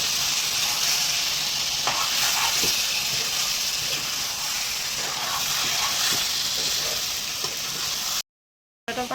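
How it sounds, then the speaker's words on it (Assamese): Onions frying with ginger-garlic paste in a pan, a steady sizzling hiss with occasional soft stirring clicks throughout, close and continuous, cutting out briefly near the end. "পিঁয়াজ দিয়া হ'ল, তাৰপিছত ইয়াত আদা নহৰু পেষ্ট কৰাখিনি দিয়া হৈছে।"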